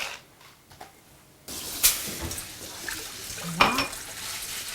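Water runs and splashes over lentils rinsed in a colander while a Moroccan harira soup is prepared. A brief soft patch comes first, then a steady broadband wash of water with a few clinks and spikes.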